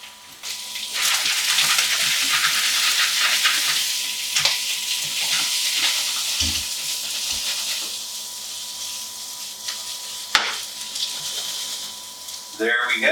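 Potatoes pan frying, with a steady close sizzle running throughout, occasional knocks and scrapes of stirring, and brief sounds of handling near the end.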